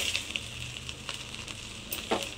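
Rice stirred and tossed in a pan with green chillies and lemon, a soft steady scraping and light sizzle with a few sharper clinks of the spoon, fairly quiet and without talk.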